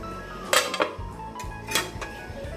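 A metal lid set onto a cooking pot on a home kitchen stove gives a few sharp, close metallic clinks and clatters in quick succession, followed by quieter rattles.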